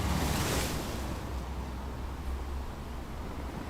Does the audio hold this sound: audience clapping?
no